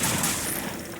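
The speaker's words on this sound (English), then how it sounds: "Now I'm going to use the Gamma Gun on it to see if it heals it or kills it" A Gamma Gun fires in Fallout 4 at a crippled feral ghoul, making a dense, loud crackling energy burst that holds steady for about a second with no gaps.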